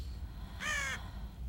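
A single raven caw, short and harsh with a rough harmonic edge, rising out of a quiet low rumble and cutting off cleanly after a moment.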